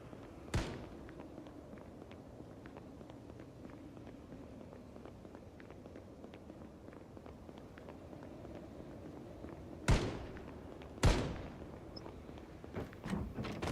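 In the zombie survival game Project Zomboid, a scavenged firearm fires three sharp, loud shots, one early and a closely spaced pair near the end, separated by a long stretch of low ambient rumble.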